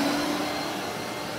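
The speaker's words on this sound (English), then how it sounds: "you basically just turn on the vacuum, dump the wheat in the top, and it dumps out the bottom" A vacuum powering a homemade wheat grain cleaner runs as a steady, loud, even whoosh with a low hum. It holds unchanged throughout, and no voices are heard.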